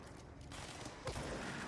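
Video game gunfire, a burst of shots under the player's calls, moderately loud with a sharp onset near the end.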